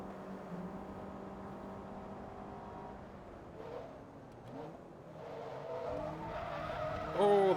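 Tires skid and scrape as a rally car slides through a corner in a racing video game, engine droning steadily underneath, with a louder burst of revving and squeal near the end.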